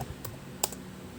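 Computer keyboard keys tapped a few times, giving sparse, crisp clicks with one sharper keystroke partway through, close and fairly quiet over low background hum.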